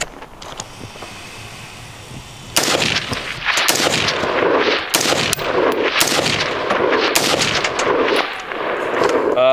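An inexpensive AR rifle fires a quick string of sharp, loud shots outdoors, each crack ringing out and overlapping with echo, the rapid volley starting after a quieter lead-in.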